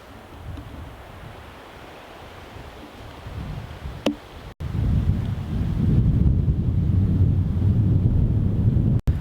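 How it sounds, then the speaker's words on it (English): Outdoor wind buffets the microphone in low, rumbling gusts that swell into a loud, steady roar partway through, with a brief sharp click and a couple of sudden dropouts. "not sure if you can hear me because of the wind"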